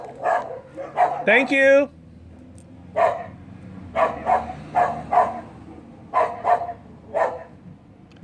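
A dog barking at the mailman in short bursts of several barks each, close and loud, with brief pauses and a yelp early on; a person speaks briefly.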